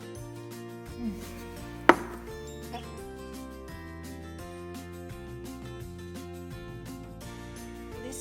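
Raw chicken being cut into pieces with a knife for Filipino chicken adobo, with repeated chopping strikes and one sharp, louder hit near the start, heard over a steady tonal background.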